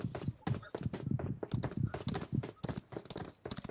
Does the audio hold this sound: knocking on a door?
no